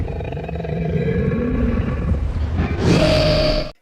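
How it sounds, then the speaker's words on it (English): AI-generated demonic creatures grumble low and guttural, building into a loud, harsh roar near the end that cuts off abruptly; close and heavy, with no talk. "I wanted these demonic creatures to grumble and roar, and that's where auto sound really came through for me"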